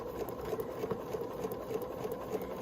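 A sewing machine stitches a half-square-triangle seam on a bear paw quilt block, a quiet steady rapid whirring hum with regular mechanical ticking and no talk.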